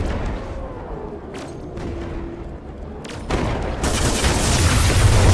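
Gunfire in the video game Everreach Project Eden, a handful of sharp booming shots over a steady background, then a louder dense burst of noise toward the end.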